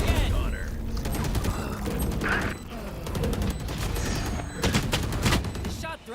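Rapid gunfire rattles through a match of the video game Valorant at a professional esports tournament, dense bursts and clicks layered with game effects and busy commentary-level chatter throughout.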